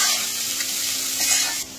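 Onions frying in oil in a pan for mutton curry, a steady close sizzle and crackle with light stirring throughout, no talk.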